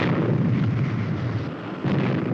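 A rocket engine fires during a Supercar test, a loud continuous roaring rush of noise that holds steady for the whole stretch, dips slightly, then surges again, with no voices over it.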